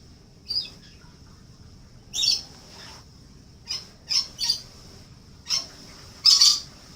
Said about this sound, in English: That is my lorikeet in the background, in case anyone was curious.